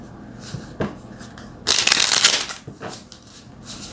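Tarot cards being shuffled in a reading, a few soft riffles early on, then a loud, dense burst of cards flicking together for about a second, trailing into quieter shuffling.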